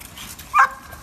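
White dog Lou Baby lets out a single short, sharp bark, faint and distant over a quiet room.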